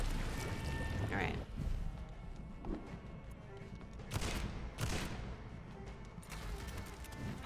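Gunfire in the video game Vampyr, a few sharp bursts of shots spaced a second or so apart over a busy game soundscape, with voices murmuring beneath.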